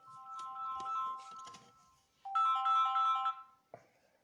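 Melodic mobile phone ringtone announcing an incoming call, two bright tonal phrases played back to back with a brief gap, close and clear, ending in a short click.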